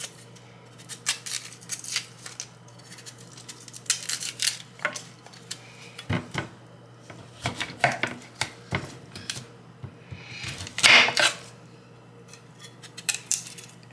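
A large knife peels the skin from cassava being prepared for fufu, giving repeated close, crisp scraping and cutting strokes in irregular bursts, with occasional knocks against a hard surface.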